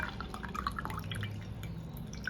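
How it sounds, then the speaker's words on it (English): A homemade blood-sugar remedy drink is strained through a sieve into a glass cup, with a soft, close trickle and scattered drips running steadily throughout. "I'm just going to sieve it like so"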